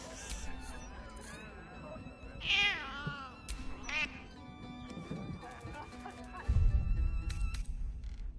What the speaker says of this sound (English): No time for playing with cats, especially lazy...